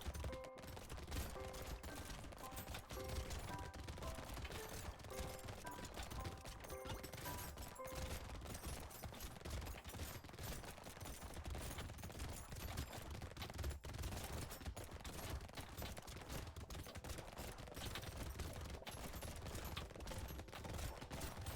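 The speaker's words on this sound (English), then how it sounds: "Oh god, there's so many bullets!" Dense, continuous rapid-fire shooting in Brotato, a relentless stream of small popping shots and impacts at an even, busy rhythm, steady and fairly quiet for the whole stretch with no talking.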